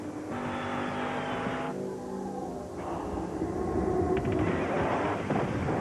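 A race-modified Chevrolet Monte Carlo NASCAR stock car engine roars loudly and steadily, its pitch shifting between sustained bursts as if revving and passing by, with music in the background.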